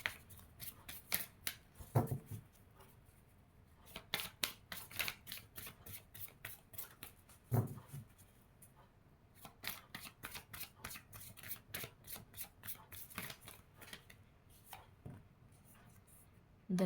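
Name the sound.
shuffling tarot cards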